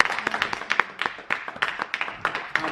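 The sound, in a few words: congregation applauding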